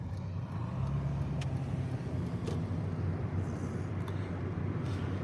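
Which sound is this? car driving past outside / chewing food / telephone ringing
car driving past outside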